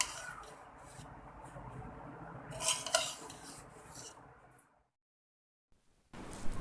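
Gulati, a Hyderabadi sweet, is scraped and dished out onto a tray with a spoon, giving soft scraping, clinks and clattering spoon-on-pan knocks that build in the middle, then a brief silence before more clinking at the end.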